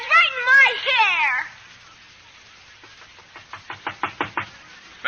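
A run of about seven sharp knocks on a door in a radio drama, evenly paced and fairly close, following a stretch of speech with music under it.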